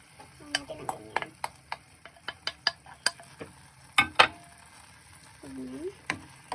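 Sizzling chicken in a pan for adobo with coconut milk, with sharp stir and clatter transients over a steady hiss, a couple of louder bursts near the middle as marinade sauce hits the hot pan; no talk.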